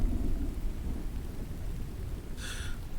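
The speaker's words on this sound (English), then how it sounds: "I love these ambient sounds, Mono. I love a lot of thunder and lightning." Thunder rumbles as a low, continuous roll with steady rain-like hiss, and a brief faint high chirp near the end.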